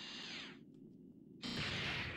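Drill arm grinding against objects in the Mega Man Legends video game, a loud harsh whirring burst that cuts out briefly and then resumes even louder.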